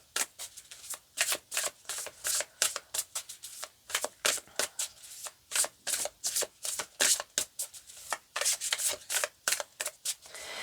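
Tarot cards shuffled by hand in a long run of crisp, rapid riffling bursts with short pauses, close and fairly loud, with no talking.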